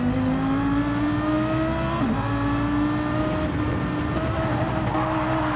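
GT1 race cars in a racing video game on the Brazil circuit, several engines droning close together at high revs, with pitch rising and shifting as cars run nose to tail.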